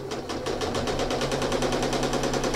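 A sewing machine free-motion stitches a starburst pattern into a crate quilt, running at a fast, even mechanical rhythm. The needle strokes are closely spaced and regular, steady and close throughout.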